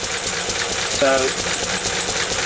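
A Lister engine runs steadily nearby with a rhythmic, pulsing chug, while someone speaks briefly over it.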